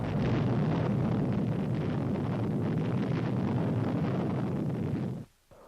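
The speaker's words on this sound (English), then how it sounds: "Then came atomic artillery." An atomic artillery shell detonates in a sustained, roaring blast of rumbling noise that holds steady for several seconds and then cuts off abruptly.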